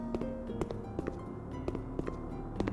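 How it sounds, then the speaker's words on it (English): Plague Doctor footsteps in the game SCP Secret Lab, clonky and hard-hitting, land in a quick steady rhythm of sharp knocks over a droning background hum, with no talking. "Plague Doctor has very clonkly sounding footsteps"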